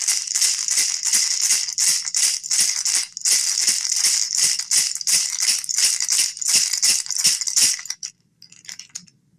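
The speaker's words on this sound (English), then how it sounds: "This first one is a peyote rattle from the Huichol people." Huichol peyote rattle shaken in a fast, even rhythm of bright, hissing seed-like pulses, loud and close, stopping abruptly near the end with a few faint shakes after.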